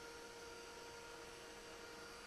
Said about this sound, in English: Don't mind my robot vacuum.